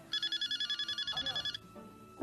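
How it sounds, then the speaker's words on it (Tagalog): A mobile phone rings loud and close, a rapid pulsing electronic trill repeating for about a second and a half before cutting off, followed by faint voices talking. "nagriring yung phone mo"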